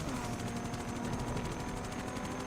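A police helicopter in the racing game Need for Speed Undercover thrums steadily, with constant rotor chop and dense engine roar filling the scene at loud, unbroken level.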